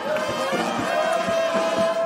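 A large outdoor crowd welcoming the PDDR-CS coordinator in Goma, a dense continuous murmur of many voices with scattered shouts and rhythmic stamping or clapping.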